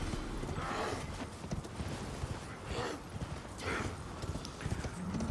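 A horse gallops in an Elden Ring-style video game, rhythmic hoofbeats clip-clopping steadily at mid distance, with breathy snorting surges recurring every second or so throughout.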